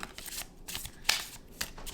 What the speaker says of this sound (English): we're just gonna keep on shuffling